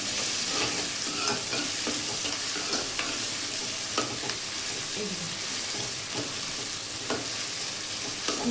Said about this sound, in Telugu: ఇప్పుడు అవి ఫ్రై అయ్యాక ఇదిగోండి అల్లం వెల్లుల్లి పేస్ట్ ఉందా అందులో వేసేసుకోండి